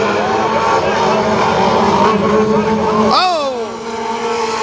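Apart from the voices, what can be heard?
race cars accelerating at Kil Kare Speedway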